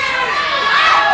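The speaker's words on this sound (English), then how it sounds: "Do you hear the crowd?" A crowd cheers and shouts loudly at an outdoor bar workout event, a dense roar that swells slightly with voices mixed in.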